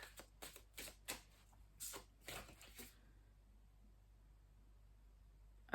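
Tarot cards being shuffled to draw a single card: a quiet series of soft riffling bursts in an irregular rhythm for a few seconds, then near silence with a faint room hum.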